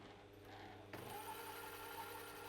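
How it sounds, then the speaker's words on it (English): A Juki TL-2010Q sewing machine starts partway through and runs a short line of stitches, a steady, fairly quiet mechanical whir with no talking. "I'm just going to run a few stitches here."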